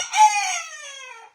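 A rooster crows once close by, a loud, strained cock-a-doodle-doo that rises quickly and then trails off over about a second, with no talking around it.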